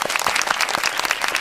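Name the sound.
applause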